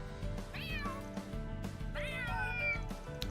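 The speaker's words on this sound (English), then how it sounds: "This little guy must be the top cat here in Center March." A cat meows twice in the video game Trails through Daybreak II, each call a rising then falling mew. Both are moderately loud over a steady bed of game music.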